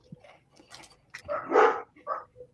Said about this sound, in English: I've got my dogs in the background. Sorry, they're going nuts.